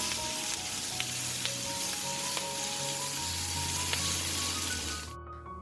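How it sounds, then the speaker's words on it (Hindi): Bell peppers and cubed onion stir-fry in a pan, with a steady, close sizzle and faint clinks of stirring that quiet near the end. "अब इनको थोड़ी देर स्टिर फ्राई कर लें"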